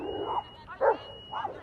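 Several dogs bark and yip at an outdoor dog park in short bursts, fairly close, with a steady high whine running underneath.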